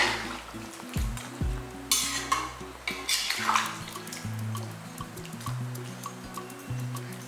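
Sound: hot water poured into sizzling chicken gravy

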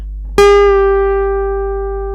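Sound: guitar string 3 fret 12 half-step bend, picked

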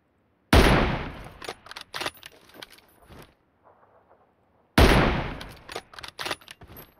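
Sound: gunfire from a gun in the video game PUBG

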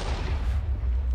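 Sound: explosive arrow blast in Minecraft Battle Gear 2 mod video game

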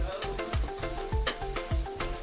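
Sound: okra (bhindi) frying in oil on a low flame

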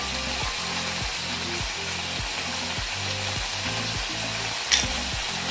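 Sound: asafoetida frying in hot oil, sizzling

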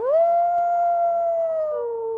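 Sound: dire wolf howling

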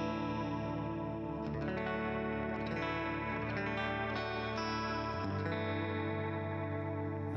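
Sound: guitar played in D-A-D-E-A-E tuning with effects

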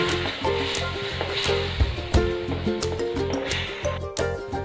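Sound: milk mixed into roasted semolina for banana sheera

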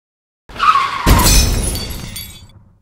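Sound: toy cars crashing together in stop motion

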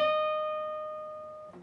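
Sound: guitar B string 15th fret bent up a full step

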